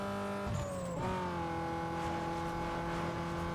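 A race car in Need for Speed Underground 2 holds a steady, loud engine drone with layered harmonic whine, shifting pitch near the start as nitrous kicks in, then sustaining a continuous high-revving roar throughout.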